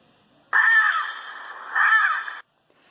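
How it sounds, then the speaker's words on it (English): A blue and yellow macaw, a large parrot, gives two loud, harsh, raspy calls in close succession, close and clear, then falls silent. "Exclaims the macaw, greeting his family scattered around the rainforest."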